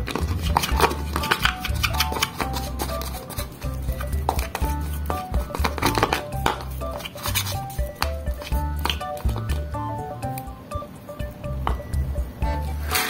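Thick, squishy stirring of a flour-based fish bait mixture with clinks and scrapes against a container, continuous and close.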